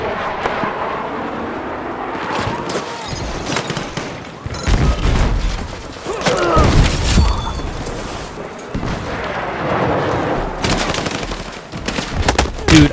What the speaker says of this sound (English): He started firing.